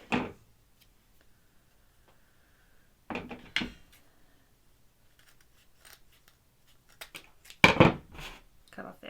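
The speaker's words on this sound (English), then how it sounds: "then I can cut the extra ribbon we have" Scissors snip through extra ribbon on a homemade candy cane Christmas wreath, giving a few sharp, close cuts separated by quiet pauses.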